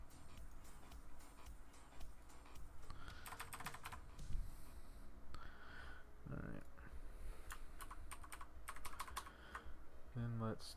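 Soft typing on a computer keyboard, quiet irregular clicks and taps in scattered bursts with occasional mouse clicks, while a person talks quietly now and then.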